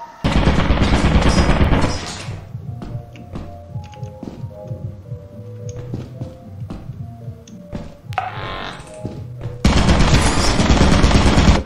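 Rapid mechanical bursts of gunfire from a turret in the video game Lethal Company open and close the stretch, with scattered thuds and clicks in between.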